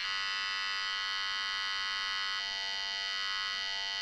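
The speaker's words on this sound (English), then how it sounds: "Yeah, we can hear some phaser" A Korg NTS-1 synthesizer holds a steady, buzzy tone through a small speaker, with a phaser effect giving a faint sweeping shimmer that grows more noticeable partway through.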